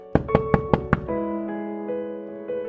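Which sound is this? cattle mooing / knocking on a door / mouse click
knocking on a door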